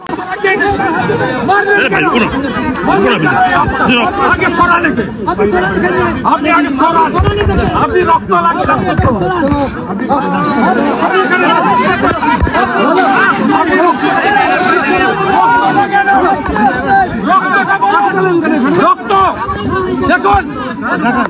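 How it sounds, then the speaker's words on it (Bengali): Dense crowd of protesters in Belgachia, Howrah, shouting slogans, a loud continuous roar of many overlapping voices and yelling with no pauses, close and chaotic throughout. "বিজেপির তরফ থেকে হাই হাই স্লোগান শুরু হয়।"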